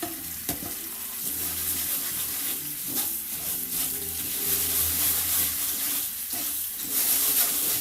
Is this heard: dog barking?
no